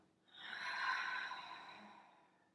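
A single deep cleansing exhale during a beginners vinyasa yoga class, a soft, breathy rush of air that swells and fades over about two seconds, close and quiet with no talking.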